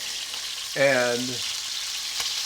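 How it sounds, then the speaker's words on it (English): Scallops searing in hot bacon fat give a steady, close frying hiss that runs the whole time, with a short spoken word rising briefly over it. "Carrie is making these beautiful scallops in this bacon fat"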